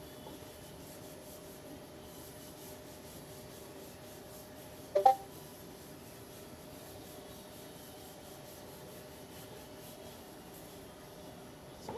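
Sanding a Power Ranger or Kamen Rider style helmet: a faint, steady rubbing texture runs throughout, broken by one sharp knock near the middle.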